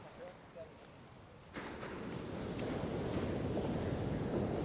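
Surf breaking on a beach in a small Mexican town, a steady rushing wash that swells louder after a quiet opening and holds, with wind noise over the microphone.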